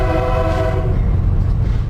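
A train horn sounds in steady, sustained tones over rumbling rail noise as the first train runs along a newly built railway stretch in Goiás, loud and close, with the horn fading after about a second while the rumble continues.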